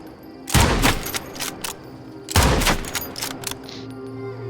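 Two sharp, loud lever-action rifle shots from the video game Nightingale ring out about two seconds apart, each a booming blast with a short tail, over steady low in-game ambience.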